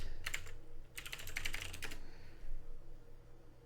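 Quick bursts of typing on a computer keyboard while entering an email and password into a login form, two clusters of brisk key clicks, moderately close and alone.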